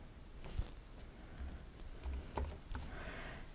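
Typing on a computer keyboard comes as a few soft, irregular key taps and clicks, fairly quiet and close, with no talking.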